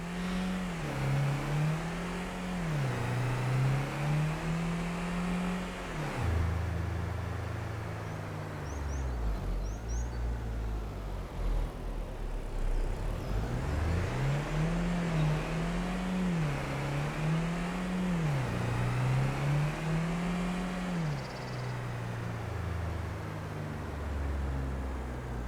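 A Skoda car engine in Farming Simulator 25 runs steadily throughout, its pitch rising and falling repeatedly as it revs and shifts. The engine drone is loud and close, with no talk over it.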